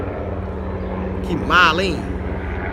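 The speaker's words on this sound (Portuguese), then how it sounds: "Helicóptero, essa hora." A helicopter drones overhead with a steady low rumble that swells briefly, while someone speaks in Portuguese over it.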